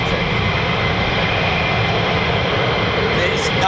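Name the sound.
military jet aircraft climbing out, RAF Lakenheath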